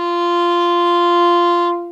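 A single bowed viola note, F natural reached from the open D string, held steadily for nearly two seconds with a bright, even tone before fading out, played alone.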